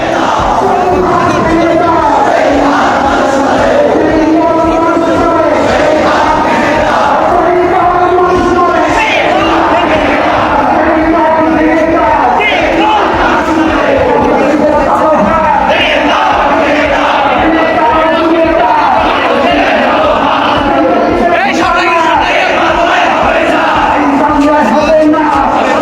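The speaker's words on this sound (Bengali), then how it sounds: "দর্শক দেখছেন দলের নেতাকর্মীবৃন্দ কিন্তু নানামুখী স্লোগান দিচ্ছে" Party activists chant assorted slogans during a march by Islami Chhatra Andolan Bangladesh outside the National Press Club, a loud, continuous crowd of many voices shouting in rhythmic unison without pause.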